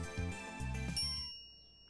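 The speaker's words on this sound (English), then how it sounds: "A chime signals our arrival on the 5th floor." An elevator chime in the visual novel Steins;Gate rings as the car arrives at the fifth floor: two bright bell-like dings in quick succession, then a clear ringing tail that fades to silence, with no voices.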